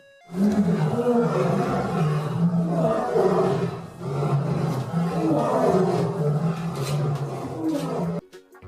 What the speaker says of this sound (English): L for lion